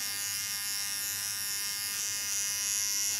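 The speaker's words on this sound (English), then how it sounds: "When it's dry, smallest clipper." A small electric hair clipper trims the hairline during a haircut, buzzing steadily and close up with a bright, high-pitched whine that holds for the whole stretch without pauses.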